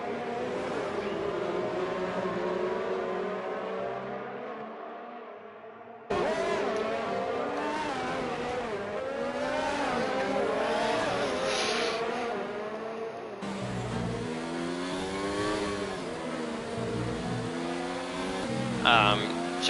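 Race car engines in a sim racing game at the Hungarian GP, a field of cars droning and revving continuously as they pass and overtake, with a commentator talking over the engine noise throughout.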